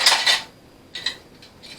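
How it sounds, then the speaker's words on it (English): A metal jar lid clinks and rattles as a magnetic grabber picks it up, in a kitchen during pressure-cooked ham preparation: a bright cluster of metallic taps, a pause, then a few more lighter clinks. "I like this little handy dandy magnetic grabber. I can just reach down there and grab one of the top lids"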